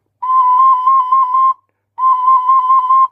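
Ocarina playing the note C, two sustained breathy tones of about a second each separated by a short pause, clear and close with no talking.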